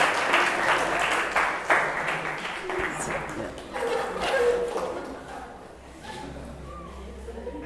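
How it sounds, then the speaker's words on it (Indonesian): A classroom audience applauds group 1 in an Islamic ethics class, a dense run of clapping that swells and thins over several seconds, with murmured voices mixed in. "Silakan beri aplaus kepada kelompok 1."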